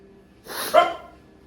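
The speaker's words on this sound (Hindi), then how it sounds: "ऐसे भौंकती रहेगी, पागल हो गई ना" A house dog gives a single close bark, short and sharp with a breathy lead-in, in a quiet home kitchen during roti making.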